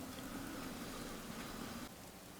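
Steady rain falling in Fallout 4, a dense, even hiss of drops that drops slightly in level near the end, soft and continuous with no voices.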